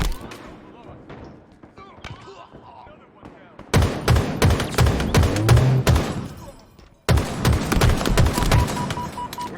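Video game gunfire crackles in rapid bursts and sustained volleys, loud and dense, with brief pauses between firefights and no talking over it.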